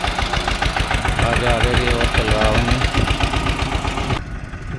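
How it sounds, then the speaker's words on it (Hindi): A tractor engine knocks and rumbles loudly with a rhythmic pulse as it draws near on a rural road, with someone speaking over the noise. "ये देखो ट्रैक्टर आ रहा है"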